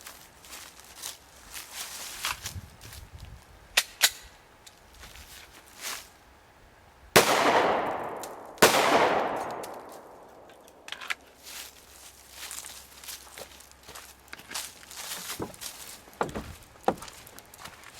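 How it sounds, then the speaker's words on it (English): Two loud shots from an FN Five-seven firing 5.7mm SS195LF rounds through a car's back glass, a second apart and each ringing out sharply, with quieter handling and shuffling sounds around them. "I'm going to shoot through the back glass, trying to engage the driver"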